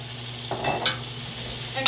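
Chopped onion, carrot and celery are tipped into hot rendered fat from braised short ribs and sizzle. A steady hiss is broken by a few clattering stirs and scrapes, and no one speaks.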